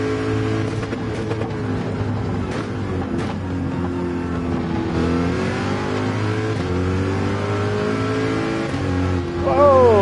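Corvette racing engine in the Gran Turismo 7 video game, a sustained buzzing drone that rises and falls in pitch through shifts and ends with a sharp upward rev, mixed with faint background sounds.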